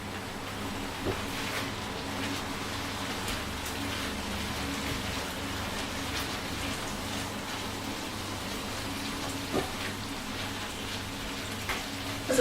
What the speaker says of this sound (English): the better sort of hob you've got, the quicker that your mince is going to brown